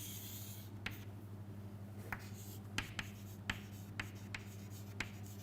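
Pen strokes on paper or a tablet while energy versus bond length curves are drawn, brief scratchy taps spaced about every half second over a steady low hum, close and fairly quiet.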